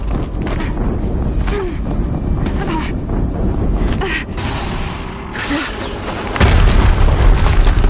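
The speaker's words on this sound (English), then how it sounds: "Another explosion." Explosions rumble in the Horizon Zero Dawn video game as a loud, continuous roar of booming, wind-like noise, with a heavier blast surging near the end and no voices.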